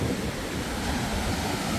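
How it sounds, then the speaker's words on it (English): Ocean waves wash continuously at Cortez Beach, a broad, loud rush of surf mixed with wind buffeting the microphone, with no voices. "You can walk right out to the waves like this."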